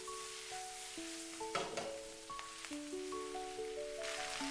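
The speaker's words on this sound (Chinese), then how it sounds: "所以我们一定要开大火，快速的翻炒" Napa cabbage leaves stir-fried fast in a wok over high heat give a soft, steady sizzle with bursts of scraping and tossing, faint beneath a louder melody of background music.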